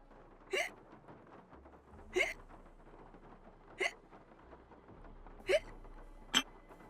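Five hiccup sound effects play as a stream alert, each a short, sharp vocal hic spaced about a second or more apart, standing alone over a faint low hum.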